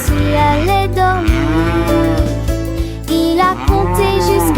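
Cow mooing loudly in a children's rhyme song, long drawn-out moos with gliding pitch repeated several times over a steady musical backing.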